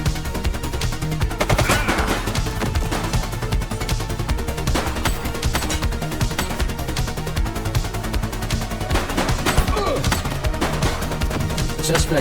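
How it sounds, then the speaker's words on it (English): Gunfire in The Precinct police game: sustained rapid bursts of loud shots cracking throughout, dense and continuous over a steady din. "Shots fired!"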